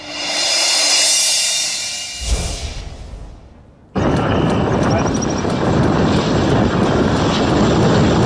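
A DRDO unmanned, pilotless fighter aircraft roars loudly at first, fades away over a few seconds, then cuts abruptly to another loud, steady roar of engine and wind noise that carries on to the end.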